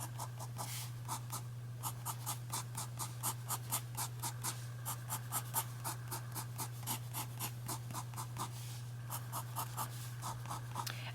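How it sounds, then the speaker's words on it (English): Pencil strokes drawing cross-hatched parallel lines for shading, a steady run of short, crisp scratching strokes grouped in quick bursts of three or four, close and clear over a constant low hum. "Drawing 3 or 4 parallel lines at a time."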